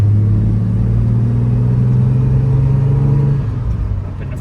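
Engine of a 1969 Jaguar XKE Series II driving in third gear on a fall day: a steady, loud low rumble with a sustained drone that eases off near the end as revs drop for a shift.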